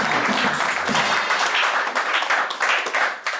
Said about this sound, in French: est-ce qu'on peut acclamer très très fort pour le Seigneur?